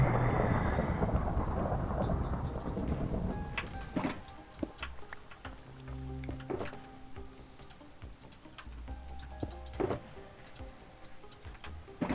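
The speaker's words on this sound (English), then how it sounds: "Oh, thunder." Thunder from a stream's backdrop, a loud broad rumble swelling over the first four seconds and then fading, with scattered sharp clicks like keyboard typing and faint rain-like hiss continuing through the rest.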